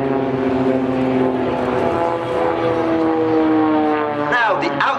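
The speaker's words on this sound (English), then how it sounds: "The leading aircraft will aileron roll, the outside aircraft barrel roll, there we go, ready for the double cross." Aerobatic display team aircraft perform rolls at the 2010 Farnborough airshow, a loud, continuous engine drone with steady tones that sweep slightly as the formation passes, a voice talking over it.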